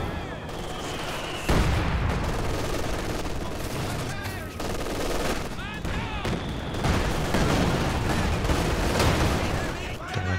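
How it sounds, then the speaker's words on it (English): Tank guns and incoming frag bombs in a strategy game battle: dense, overlapping gunfire and sharp blasts, with a heavy boom about a second and a half in, continuing in rapid clusters at loud, close range. "We've got the frag bombs coming in"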